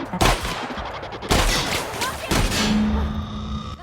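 Shotgun blasts in the video game The Outer Worlds: three loud, booming shots spaced about a second apart, each with a crackling tail, under faint game background sound.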